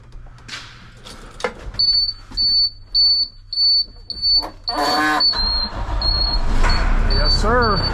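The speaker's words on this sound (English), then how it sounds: "Do have a torpedo heater here, which I'm sure he'll let me use." A torpedo heater fires up in a shop, a roaring whoosh of ignition with a brief burst of rattling, followed by a steady roar, set among intermittent beeping and some background noise.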